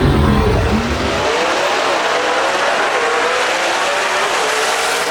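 A B-Gas class drag race car launching hard at Knoxville, front wheels lifting, its engine blasting loud and close at first, then a roaring, tire-squealing rush that fades steadily as the car pulls away down the strip.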